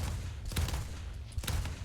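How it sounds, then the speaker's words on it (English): Aircraft cannons and machine guns fire in the video game War Thunder as two short, loud bursts roughly a second apart, rising out of steady engine and wind noise. "my cannons and machine guns now fire with my mouse instead of with right alt"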